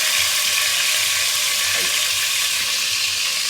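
Meat sizzling and frying in a hot pot, a steady loud hiss of fat and steam running throughout with faint stirring beneath.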